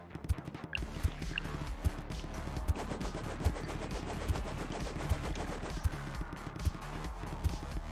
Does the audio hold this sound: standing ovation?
no